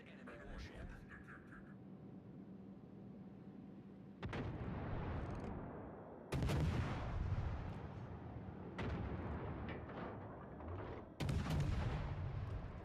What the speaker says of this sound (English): Concentrate fire on that enemy warship